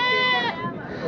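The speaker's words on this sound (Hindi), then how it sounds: "जी आई साहब खूबसूरत बकरी है जी" A goat bleats loudly and close at a busy livestock market, one long wavering cry with a quieter call after it, while people's voices murmur in the background.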